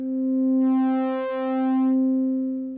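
Sustained electronic tone from a VCV Rack synth patch modulated by a sine wave LFO, with rich harmonics that bloom and fade in two slow, smooth swells, heard alone.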